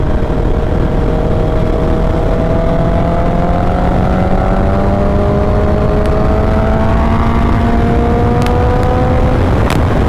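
A four-cylinder motorcycle engine revs loud and close, its pitch climbing steadily through acceleration with a few sharp shifts near the end, and no voices.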